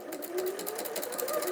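A sewing machine stitches in a steady, close mechanical whir with a rapid rhythmic pulse and no pauses, and no one talks over it.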